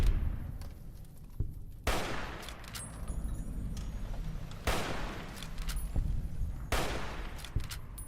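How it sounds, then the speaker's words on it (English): Rifle gunfire in Fallout: New Vegas cracks out in three loud, sharply spaced shots, each followed by a short decaying echo, over a quiet background with faint clicks in between. "Try out this new rifle we just got"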